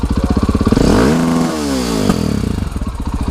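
Dirt bike engine at an enduro drag-racing outing, loud and close: a rapid throttle rev climbing and falling in pitch, then settling back to a chugging idle.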